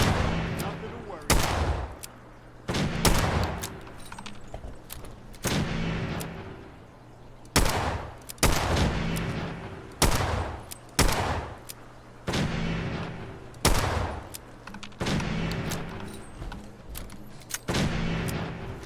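Gunfire in Fallout 4 booms in a series of heavy, evenly spaced shots, loud and close, each followed by a short echoing tail, with a voice talking in between.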